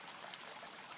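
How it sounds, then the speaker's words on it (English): Water streaming out of a hole beneath a perforated drain pipe outside a house, a steady, close trickling wash that stays even and unbroken for a brief moment. "there's water streaming out through that hole underneath"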